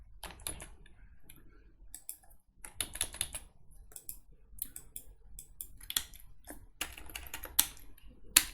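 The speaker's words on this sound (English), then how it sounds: "You type the CMD here." Rapid, uneven clatter of computer keyboard keys, near and fairly quiet, with short bursts of keystrokes and brief pauses between them, no voices.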